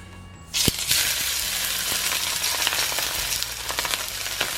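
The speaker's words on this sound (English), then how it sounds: "I want to pan sear it so that it's about rare to medium rare in the middle." Frozen cryovac-packed salmon hits a hot, smoking pan and erupts into a loud, steady sizzle that crackles on without letup, close up and with no voices.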